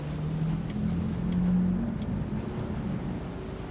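Steady engine drone of a player-built bike driving across open desert terrain in the video game Dune Awakening, a low continuous hum with wind-like noise and no speech.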